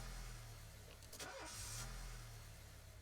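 Car engine starting in the video game This Is The Police, a brief starter crank and catch followed by a low, steady idle hum, with a short whoosh just after.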